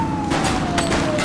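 Gunfire in GTA during a police shootout, dense overlapping shots and sirens filling a short loud burst with no pauses.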